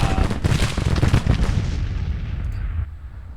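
Massed infantry musket gunfire from a Civil War battle at Chancellorsville in the strategy game Grand Tactician: a dense, crackling roll of overlapping shots with low booms that rumbles steadily, then thins and fades toward the end, with no talk.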